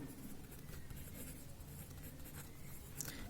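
Chalk or marker scratching across a board during a class 8 NCERT math lesson: a soft, continuous scraping of strokes, faint and close, with no talk.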